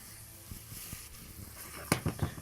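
Onions and garlic for a madras-spiced smoked haddock kedgeree sizzle softly in a pan, a steady faint frying hiss with a few stirring knocks, then a louder burst of clatter near the end.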